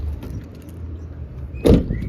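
Rear door of a 2022 Suzuki Jimny swung shut, giving one solid close thud after some faint mechanical rattling, with no talking.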